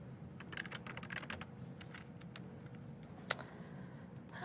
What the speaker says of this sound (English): I'm just having a lot of trouble typing